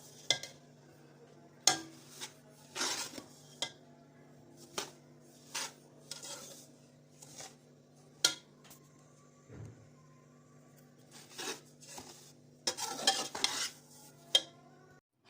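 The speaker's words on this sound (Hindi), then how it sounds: "अब मैं खामोशी से सिर्फ इसको चम्मच चलाती हूँ" A spoon stirs panjeeri in a pot, scraping and clinking against the metal in irregular bursts over a steady low electrical hum, with no talking.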